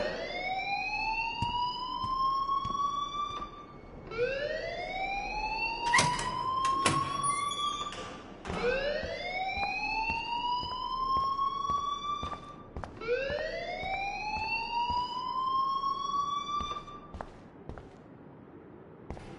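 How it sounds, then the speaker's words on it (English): Rising, whooping electronic alarm in the Life is Strange video game, repeating about four times in long sweeping wails, loud and steady with a few sharp clicks between cycles. "please turn off that alarm since that's your job"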